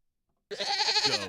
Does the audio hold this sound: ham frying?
no